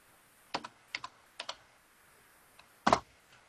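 Keys pressed on a computer keyboard in short pairs of sharp clicks, three quick doublets followed by a louder cluster after a pause, close and crisp against near silence.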